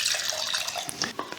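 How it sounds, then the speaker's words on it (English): Denatured alcohol poured into a jar, a short steady liquid trickle with a few splashy drips near the end, close up and alone. "I'm just going to pour some into a jar"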